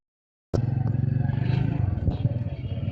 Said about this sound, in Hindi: ये देख सकते हैं बाइक इस टाइम स्टार्ट है